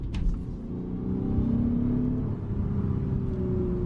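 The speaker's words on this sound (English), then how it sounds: "Okay, let's go into this corner a little bit harder. Let's see how it handles." A Lexus GS350 V6 sedan pushed hard through a corner, its engine rumbling and rising in pitch with a steady revving whine heard from inside the cabin, continuous and fairly loud.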